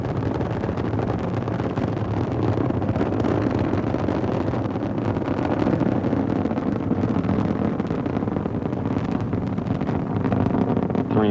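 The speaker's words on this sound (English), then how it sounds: "Three engines aboard Discovery now throttling down" Space Shuttle Discovery's three main engines roar through ascent, a continuous broadband rumble with a crackling edge that holds steady, loud and unbroken, with no voices.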